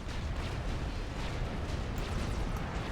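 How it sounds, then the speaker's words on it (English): Heavy rumbling barrage from a T3 mobile missile launcher in Supreme Commander, a dense, continuous roar of launches and explosions sustained and loud throughout with no pauses. "T3 mobile missile launcher."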